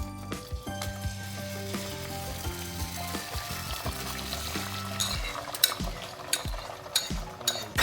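Beef sizzling and frying in a pan in a kitchen, a steady crackling hiss with clinks and stirring scrapes throughout, rising slightly in the last seconds.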